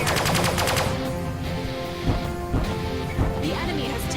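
Weapons fire in the space-combat video game Sunrider: Mask of Arcadius: a dense, loud burst of rapid shots and crashing impacts, with further heavy hits spaced across the clip.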